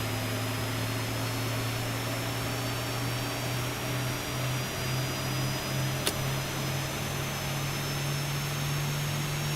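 A Boeing 737-800's number 2 jet engine starts up in the X-Plane 12 flight simulator: a steady, loud turbine drone with a low hum that slowly rises in pitch as the engine spools up, with a brief click partway through.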